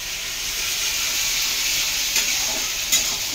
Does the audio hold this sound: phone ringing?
no